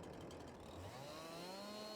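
A chainsaw in the Farming Simulator 22 game revs up while cutting logs, a steady buzzing whine that climbs in pitch over a couple of seconds, continuous and fairly close.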